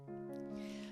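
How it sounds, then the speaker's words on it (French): A cat gives a single short, tonal meow, faint and close, alone. "Le retour du chat, grave."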